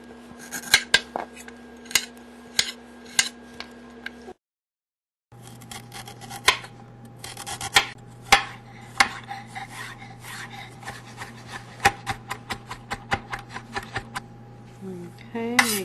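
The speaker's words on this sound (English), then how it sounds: "We're gonna chop up some ginger." A knife chops ginger on a cutting board in a series of irregular sharp taps and clacks, with short pauses and a brief silent gap between bursts.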